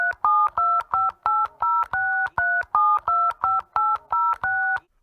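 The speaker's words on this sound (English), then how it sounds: "Here, Frank, use this calculator on my phone." Keypad tones from a phone calculator, a rapid run of about fifteen short, evenly spaced beeps, each a crisp dual-pitch tone, close and clear with no talk.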